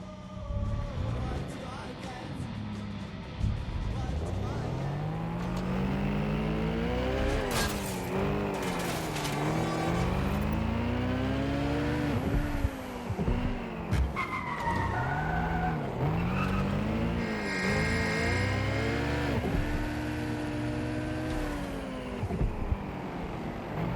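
A car driven in the video game Watch Dogs Legion, engine revving and shifting up and down through gears with repeated tire skids and squeals, sustained and fairly close, with occasional bursts of other game noise.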